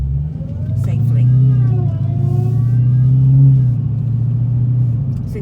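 A rental vehicle's engine hums and rumbles steadily during a U-turn, its pitch swelling gently as it accelerates, close and fairly loud, while someone talks over it.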